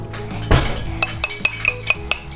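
A metal spoon clinks against a dish of natural yogurt at home, first in one heavier clatter, then in about half a dozen light, bright taps spaced irregularly close by.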